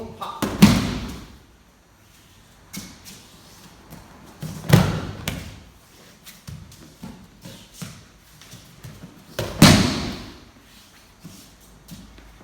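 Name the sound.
aikido partner thrown, hitting the mat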